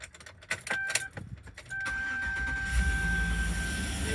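Car engine fitted with newly installed Speed Engineering 1 3/4 long tube headers that leak exhaust, cranking with a few clattering bursts, then catching into a steady rough idle with a raspy, ticking exhaust note, close up.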